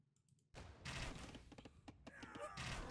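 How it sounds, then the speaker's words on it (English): Bombard cannons firing in Age of Empires II, a dense run of booming, thudding shots mixed with battle noise, starting abruptly and continuing loud and busy throughout. "Let's take a look at what the bombards were firing on"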